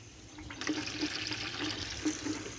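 Water gushes steadily through a newly installed siphon under test, a continuous close splashing flow with faint bubbling and no talk.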